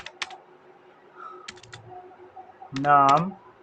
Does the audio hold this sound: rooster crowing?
no